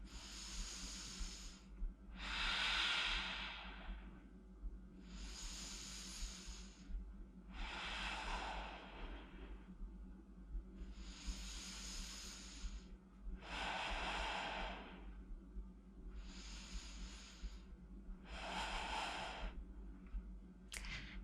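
Deep, slow breaths during a hip-strength and spinal mobility workout, with long hissing inhales and exhales alternating in a steady rhythm for about eight cycles, close and clear with no talking.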